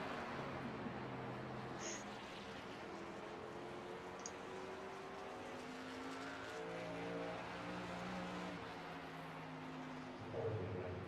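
Race truck number 44 runs on a racetrack, its engine a steady, moderately distant roar that shifts in pitch as it travels, with no talk over it.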